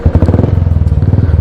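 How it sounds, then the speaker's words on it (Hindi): A motorcycle's electric self-starter cranks the engine in a rapid, even chugging pulse, loud and close throughout, on a mountain ride in the Niti Valley, Uttarakhand. "सेल्फ ले लिया बाइक ने।"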